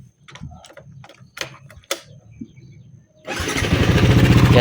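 A Yamaha Sniper 155 VVA motorcycle engine with a worn tensioner, heard up close: a few sharp clicks and revving bursts over a rattly idle, then a loud, dense, raspy roar that swells and holds through the end.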